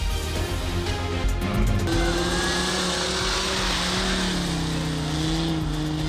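Rally jeeps racing across packed, frozen snow in a snowy valley of Khyber Pakhtunkhwa, engines roaring loudly and continuously as their pitch climbs and falls through gear changes, close and strong.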